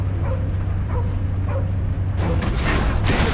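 Cosmo the dog in the Guardians of the Galaxy video game gives a few short yips and barks over a loud, steady background of game music and effects.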